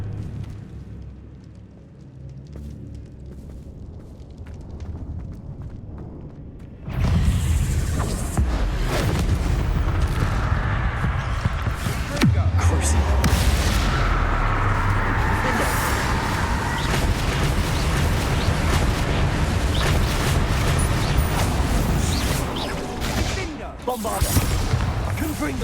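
A Bombarda explosion spell in the video game Hogwarts Legacy bursts suddenly into a loud, sustained roar of blasts and rumbling debris after a quieter start, with occasional voices over the noise.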